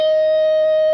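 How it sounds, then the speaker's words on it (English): A guitar's natural harmonic, rung by lightly touching the string over the fret, gives one pure, bell-like tone that holds steady and bright for the whole second, loud and alone. "Now the trick here is natural harmonics."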